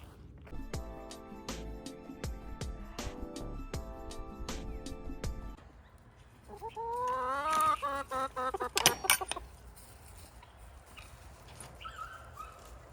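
Chickens inside a chicken coop cluck and call, with a sharp rooster-like cry rising midway. Earlier there is a repeating tonal pattern, and other scattered animal noises occur around the birds.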